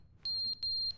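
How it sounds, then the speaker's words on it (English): Two loud, piercing electronic beeps from a smoke detector with a low battery in The Stanley Parable, close and evenly spaced, each lasting about a quarter second with no talk over them. "we gotta change the batteries in that smoke detector"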